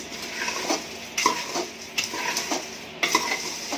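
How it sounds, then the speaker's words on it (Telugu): Kaaram burugulu frying in a pan on a low flame, stirred with a utensil that scrapes and knocks against the pan every second or so over a gentle sizzle, nearby and without speech. "చూడండి సిమ్లోనే తిప్పుతూ ఉండాను."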